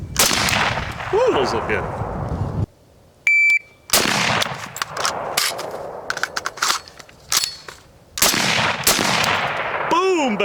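Sharp gunshots from a Springfield Armory Hellion rifle crack out in repeated loud bursts, separated by brief pauses and an electronic beep, with a voice commenting between shots.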